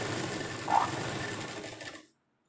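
A sewing machine runs steadily, stitching a churidar pant, with a dense mechanical whir and a brief brighter peak partway through before it stops abruptly.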